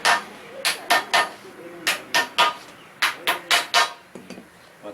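A hammer drives nails alternately on the right and left sides, striking in quick clusters of two or three sharp blows separated by short pauses, close and clear.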